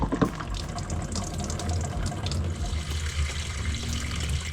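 Engine oil drains from the oil pan of a Subaru WRX with an FA20 engine into a catch tray, making a steady, continuous splashing pour of liquid close by.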